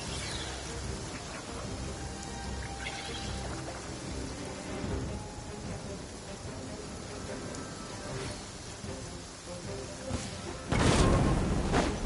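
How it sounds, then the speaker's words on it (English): Rain and thunder in a Genshin Impact-style fantasy game scene, a steady wash of rainfall throughout with a loud thunderclap bursting in near the end. "Thunder!"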